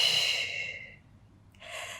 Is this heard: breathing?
yes